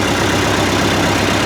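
A classic tractor engine runs steadily and loudly close by, a dense continuous drone with no voices over it.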